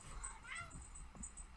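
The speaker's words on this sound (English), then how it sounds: "Pay no attention to the crazy cat in the background." A cat meows faintly in the background amid low room noise, a couple of brief wavering cries.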